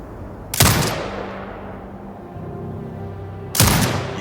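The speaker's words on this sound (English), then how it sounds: "Exit binocular mode and command the turret to fire." A turret fires in Sniper Ghost Warrior Contracts 2: two loud, sharp blasts about three seconds apart, each followed by a long rumbling decay, with a low mechanical hum between them.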